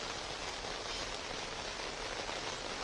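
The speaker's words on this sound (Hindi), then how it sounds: "बारिश भी देखिए क्या झमाझम शुरू हो गई है मुंबई में" Heavy monsoon rain pours down in Mumbai, a dense, even, unbroken hiss of water striking surfaces with no gaps and no voices.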